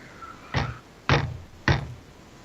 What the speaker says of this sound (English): like knock, knock, knock, but very loud